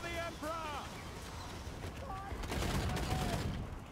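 Sustained volleys of crossbow and outrider gunfire in a Warhammer battle game, cracking over one another as a gyrocopter bomber comes under fire, mixed with tonal game effects and a talking voice.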